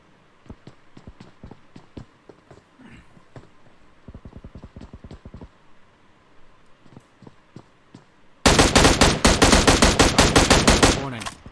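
Gunfire crackles in a BGMI (Battlegrounds Mobile India) esports battle at Pochinki: scattered single shots and short bursts at first, then a loud, dense stretch of rapid automatic fire close by near the end.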